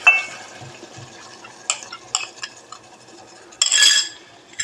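A spoon stirs a milk and rice flour mixture into a bottle gourd curry cooking in a pan. Irregular scraping and clinking of metal on the pan, close and moderately loud, with no talking.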